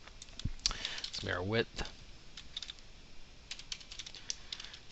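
Crisp computer keyboard keystrokes clatter in scattered bursts while modelling in IRONCAD CAD software, someone speaking briefly over the first taps before the clicking continues alone.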